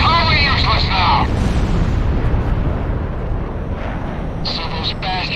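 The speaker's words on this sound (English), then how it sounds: "Our runway's being bombed to hell." Heavy explosions from bombs hitting an airbase runway in Ace Combat 6, a loud continuous rumbling blast wash with high alarm-like tones at the start and end.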